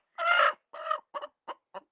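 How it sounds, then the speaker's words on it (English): A broody hen grumbles with a drawn-out, agitated cluck and then several shorter clucks that quicken and fade, close by and alone. "That's what it sounds like when they're clucky."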